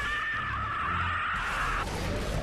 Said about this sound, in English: Those wretches screams are getting really annoying.